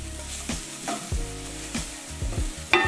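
Beans are mixed through in a sizzling pan, with a spoon making repeated soft scraping and clattering strokes over a steady frying hiss.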